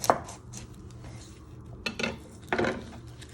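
A knife chops through a vegetable on a cutting board: three sharp, close knocks spaced unevenly over a few seconds in a quiet kitchen.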